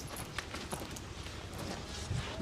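Horse hooves clip-clopping outdoors, a lively young horse stepping with a steady irregular patter of light hoof strikes at moderate distance, no talking.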